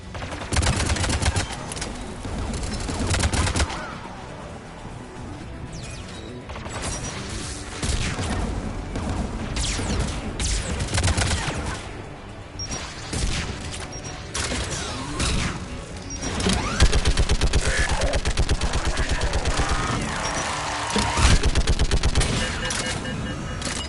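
Rapid automatic gunfire from a Geth turret in the video game Mass Effect 3, loud continuous bursts of rattling shots with crashes and mechanical clatter underneath, pressing on almost without pause for over twenty seconds.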